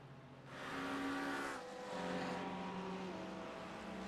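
Race cars in a sim racing game, an endurance race at night, roar past in traffic with loud engine whines that rise and fall, tyres briefly squealing, close and continuous with no talk.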